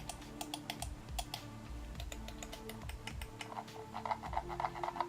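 Rapid, crisp button clicks from a SteelSeries Rival 100 gaming mouse, a dense run of sharp ticks over a low background hum, with faint sounds underneath. The clicks grow a little busier toward the end.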